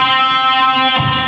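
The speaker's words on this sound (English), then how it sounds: "we're going to bend the 3rd string at the 3rd fret up to the same note" An electric guitar plays a unison bend, the 3rd string pushed at the 3rd fret up to match a fretted note, rendered as one sustained, harmonically rich tone that swells brighter near the end with no talking.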